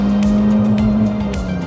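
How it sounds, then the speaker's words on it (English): A standard car engine near the rev limiter on a downhill B road, holding a steady high droning tone with rhythmic pulsing cuts, loud and close inside the cabin. "Little rev limiter."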